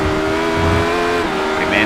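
A Radical race car in iRacing brakes hard at Monza after the Lesmos, its steady engine drone holding loud under a commentator's voice, with a brief higher whine near the end.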